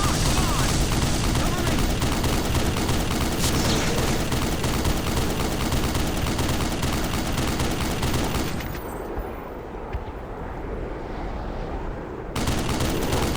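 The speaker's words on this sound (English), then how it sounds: "You see those bullets ricocheting?" Sustained gunfire in the video game Black Mesa: dense, rapid shots with ricochets rattling continuously for several seconds, then a quieter lull before the firing briefly resumes.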